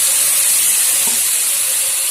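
Grated ash gourd dropped into hot oil in a pan, giving a steady, loud, close hiss and sizzle that fills the whole moment with no talking.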